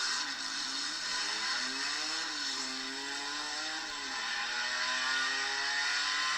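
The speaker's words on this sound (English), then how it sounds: "they actually have a soundbite of an Opala SS here" A Chevrolet Opala SS with an overhead-valve inline-six engine revving, heard as a recorded clip played back: a continuous engine note that rises and falls through several revs at steady, fairly loud volume, no talking.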